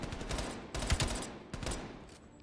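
An MP5 submachine gun with a 50-round drum magazine fires in Call of Duty: Black Ops Cold War, rapid bursts of close, loud gunfire with short pauses between them and dense, booming low end.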